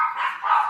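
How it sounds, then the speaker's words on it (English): Dogs fighting somewhere in the background, heard as one short, loud, tonal bark or yelp lasting under a second, with no voices over it. "Somebody got some dogs fighting in the background."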